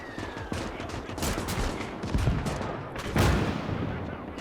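Dense battlefield gunfire and artillery from the Winds of Iron 1920+ mod, a Polish and Rusviet mech battle with mortars, cannons and machine gunners: continuous crackling volleys with heavier booms swelling near 2 and 3.2 seconds, no talk.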